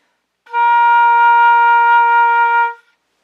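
One long flute tone, a B flat fingered with the thumb and fourth finger added, sounds clear and even for just over two seconds, standing alone without any speech.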